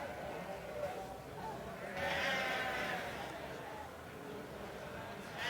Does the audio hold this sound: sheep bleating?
yes